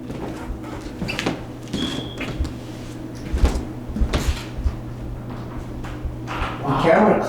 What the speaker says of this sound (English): No, I heard like a door.